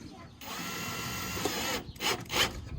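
Power drill spinning a camper's stabilizer jack, a steady whirring drone for over a second, then two short bursts as the trigger is pulsed, close by with no talk.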